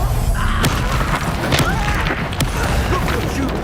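Spell impact in the video game Hogwarts Legacy, the Expelliarmus disarming spell: a booming burst with crackling sparkle over a dense, loud battle soundscape, with a couple of sharp hits in quick succession.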